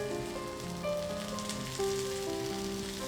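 A slice of rava toast sizzles in oil in a pan, topping side down, over a medium flame. A soft, continuous crackling hiss holds steady at low volume with no talking.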